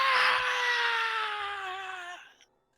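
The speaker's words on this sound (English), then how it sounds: "letting off a loud scream that the other guy hears here who's working on a power line" A man's loud, sustained scream as a xenomorph seizes him and drags him into a ceiling, a single drawn-out harsh wail that slowly falls in pitch and cuts off abruptly, alone and close.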